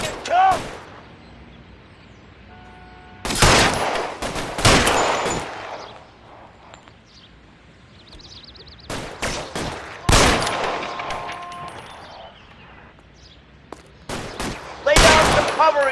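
Heavy gunfire in the Xbox game L.A. Noire, loud clustered bursts of rapid shots and ricochets breaking out in several waves, with quieter gaps and faint background sounds between them.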